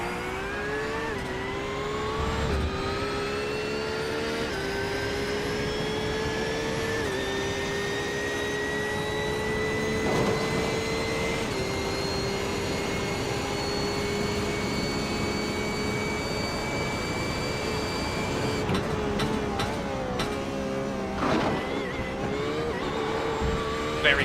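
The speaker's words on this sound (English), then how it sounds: "let's ride on board and listen to Alex Meredith in Porsche 992" An onboard Porsche 992 GT3 race car engine in a sim racing GT3 championship at Circuit Gilles Villeneuve, a loud, continuous high-revving whine with rising pitch through the gears and sharp shifts, with no talk over it.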